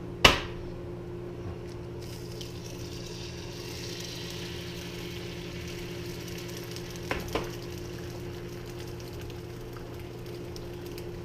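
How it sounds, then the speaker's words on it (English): Egg frying over easy in a preheated pan, a steady close sizzle with a soft hum beneath, a sharp clink near the start and two brief knocks later, no talk. "This should literally take you about 30 seconds to cook one egg over easy when it's nice and preheated like such."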